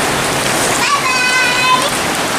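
Heavy rain pours steadily while a small child bathes outdoors in it, a dense continuous hiss with splashing, and faint voices and a brief whistling tone rising over the downpour.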